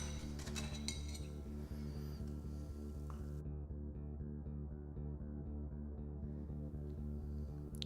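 A salt and vinegar cleaning mixture for cymbals is stirred steadily in a container, with a continuous run of light clinks and scrapes from the utensil, close and even in level.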